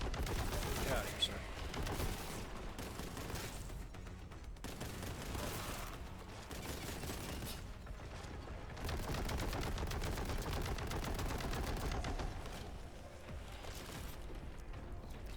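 Boltgun fire in the Warhammer 40,000: Boltgun video game, loud sustained bursts of shots over explosions and game noise that continue throughout with only short dips.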